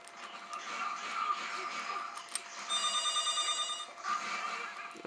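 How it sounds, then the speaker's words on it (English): A phone ringing in the room, a bright electronic trill lasting about a second near the middle, over steady background noise with a faint voice. "That would be my phone,"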